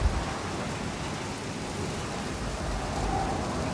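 Rainstorm in the dinosaur park game Jurassic World Evolution: a steady, dense hiss of heavy rain with low rumbling thunder underneath, continuous and fairly loud with no voices.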